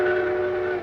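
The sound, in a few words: passenger train pulling out of New York station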